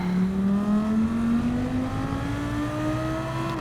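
Lamborghini engine in Gran Turismo 7 during a daily race, droning steadily at high revs with its pitch slowly climbing as the car accelerates, loud and continuous throughout with no talking.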